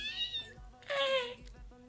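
A house cat gives two short, plaintive meows in close succession, nearby and fairly clear, with a faint low rumble underneath.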